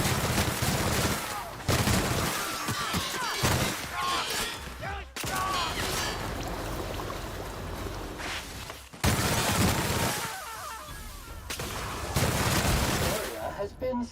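Rapid machine-gun fire in the video game The Outer Worlds, loud, close bursts separated by brief pauses, with a voice talking over parts of the fighting.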